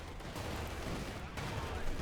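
Gunfire in the Company of Heroes 2 battle, with conscripts and guardsmen fighting and pioneers under fire, forming a dense, continuous crackle of shots and distant bangs over the full two seconds.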